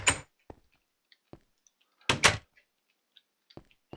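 Blocky wooden door sounds from Minecraft: a sharp open clack followed by scattered soft clicks and a louder double knock later, close and isolated against silence.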